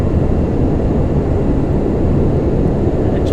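Lockheed TriStar airliner engines accelerating in flight, a loud, dense, steady roar that holds without a break.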